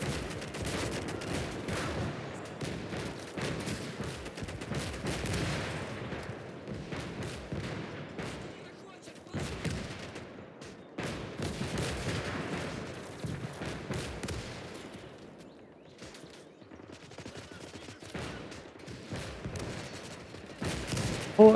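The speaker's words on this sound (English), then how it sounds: "Fortunately, these 76mm guns are godly." 76mm guns fire in the Call to Arms: Gates of Hell war game during a battle with enemy tanks. Sharp gunshots and heavier booms come in irregular bursts over a rumbling battlefield, fairly faint overall.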